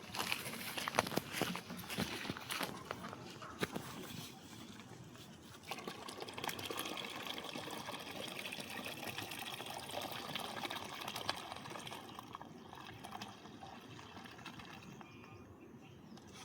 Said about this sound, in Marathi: आता तुम्हाला बाल्टीत ओतून दाखवतो